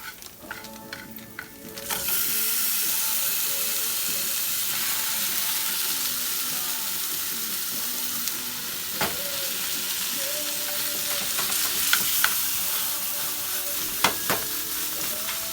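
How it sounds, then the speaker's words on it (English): Ground beef sizzles loudly in a pan in a home kitchen, a dense steady crackle that swells after a quiet start, with occasional scrapes and clicks of stirring and no talking. "So we're going to let this ground beef cook until it's done."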